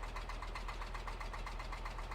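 A tractor engine in Farming Simulator 22 idles with a steady low rumble and a fast, even pulsing throb, continuous and fairly quiet, with no voices.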